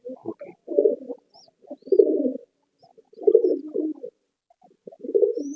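Old white lineage pigeons coo close by in repeated low, throaty phrases, four rolling bursts separated by brief pauses, loud and clear with nothing else around them.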